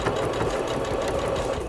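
A sewing machine stitches a straight seam along fabric for a cushion cover, giving a steady, even mechanical whirring buzz that runs without pause the whole time at a close, moderate level, with no talk.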